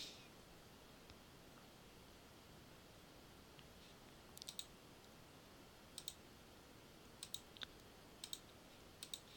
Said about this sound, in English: Don't know why I'm just clicking buttons